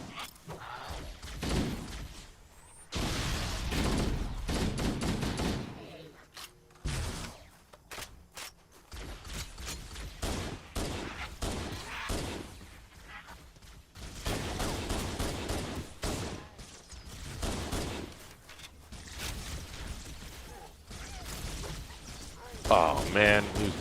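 Video game gunfire, including a pistol, crackles in dense, rapid bursts broken by short pauses, with mechanical clicks and thuds between volleys, and a voice speaks now and then over it.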